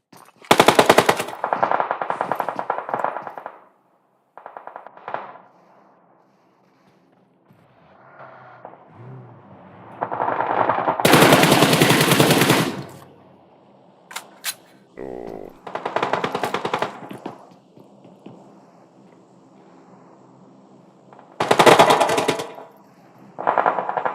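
Bursts of automatic machine-gun fire in a Clash of Clans finals esports match, loud rapid rattles in several clusters separated by quieter gaps with faint game ambience.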